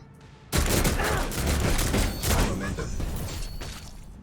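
Sustained volleys of gunfire and booming impacts in the video game Warhammer 40k Rogue Trader, erupting abruptly after a quiet moment and rolling on densely at close range.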